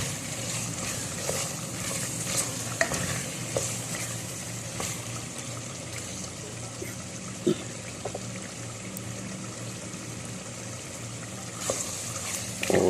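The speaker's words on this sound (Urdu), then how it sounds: "گوشت، وہ ہم اس میں ڈال دیں گے بوائل ہوا ہوا، اور اس کو اچھے طریقے سے ہلائیں گے" Boiled camel meat stirred in a karahi gives a steady, close sizzle and bubbling with faint scraping and clinks throughout, no voices over it.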